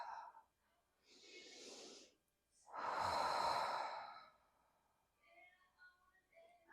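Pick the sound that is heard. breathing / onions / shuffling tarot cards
breathing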